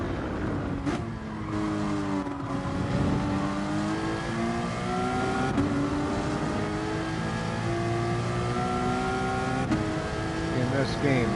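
Racing car engine in GT Sport, a steady high revving whine that rises and shifts pitch through gear changes, loud and continuous throughout.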